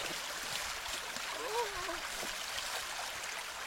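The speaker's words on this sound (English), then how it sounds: "As you can tell, the rapids." River rapids rush in a steady broadband roar, the water flow continuous and fairly loud throughout, with a brief faint whistle-like sound partway through.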